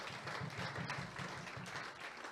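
Congregation applauding and cheering at a French-language church revival service, a dense, steady wash of clapping that fills the room for a couple of seconds without speech.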